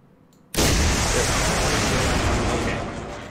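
A weapon launch in the Command: Modern Operations military simulation game, with an abrupt loud roaring blast that holds as a broad rushing noise for about three seconds before slowly fading.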